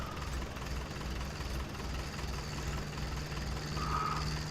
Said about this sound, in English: you see this tractor, it's only just man enough. It's the weight of the seeder on there